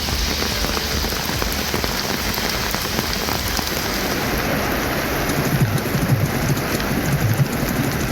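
Heavy monsoon rain pours steadily in a Tamil Nadu town, a dense, continuous hiss of drops drumming on surfaces with no pauses and no voices.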